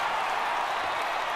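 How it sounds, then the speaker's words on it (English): A home crowd in MLB The Show 18 cheers a triple, a broad, steady roar of cheering and applause that holds at an even level for a short stretch, with no talk. "And the home crowd is absolutely eating this up."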